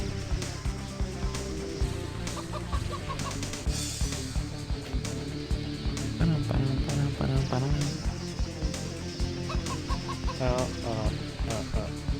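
Chicken clucking sound effects from a retro video game, several short bursts over busy game music and noise, moderately loud.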